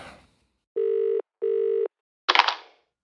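A phone call is placed: two long, steady ringback tones sound one after the other with a short gap between them, loud and clean, then a brief burst of noise as the line picks up.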